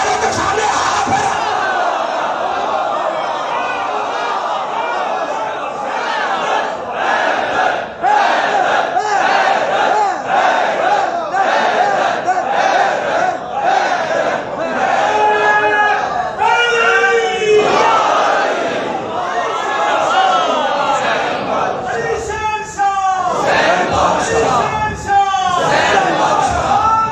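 A large Muharram mosque congregation at an imambargah in Lahore loudly chanting salawat in unison, a dense roaring wall of voices sustained throughout with rhythmic surges and shouted peaks.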